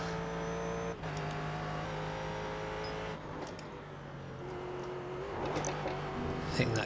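A GT race car in the iRacing sim holds a steady engine drone with sustained harmonic tones, easing and shifting midway, then revving harder with a brief tire or curb scrub near the end, loud and close throughout.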